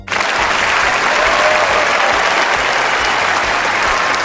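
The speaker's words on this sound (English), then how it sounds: "Please, save your applause till the end." Applause sound effect: a loud, dense burst of crowd clapping that starts abruptly and holds steady for about four seconds without talk.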